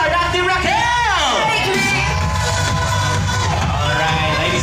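Wedding guests cheer and shout for the newlyweds in a loud crowd, with whoops and voices layered over a bright, continuous roar that sustains throughout.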